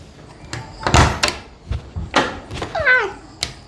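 Door being opened, a couple of sharp knocks and sliding scrapes with clatter, near and fairly loud, with a cat's brief meow partway through.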